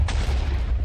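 A Minecraft explosion made bigger and more impactful by the Explosive Enhancement mod: a single sharp boom at the start with a heavy low rumble sustained beneath, no talking.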